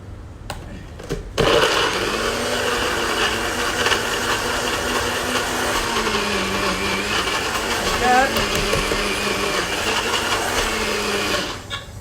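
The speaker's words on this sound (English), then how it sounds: "The NutriBullet's hard, but that's the vibe we're going for." A NutriBullet blender whirs steadily for about ten seconds, chopping lamb sauce ingredients with olive oil, its motor pitch dipping and rising as the chunky mixture shifts, loud and close after a brief start.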